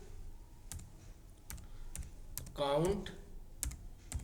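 Keys clack in a quick, uneven series of sharp taps on a computer keyboard while a formula is entered into an Excel spreadsheet, someone speaking Hindi over the typing partway through.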